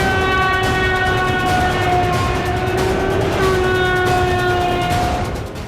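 A train on Russia's Trans-Siberian rail line sounds a long, loud multi-tone horn over the steady rumble of rolling wagons, the chord holding for several seconds before fading slightly at the end.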